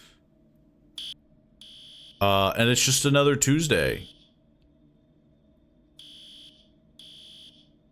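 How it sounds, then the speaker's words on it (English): A fire alarm in found footage gives short electronic beeps, sparse at first, then a loud dense wail for about two seconds before falling back to intermittent tones; a person talks briefly. "The alarm deafens everyone."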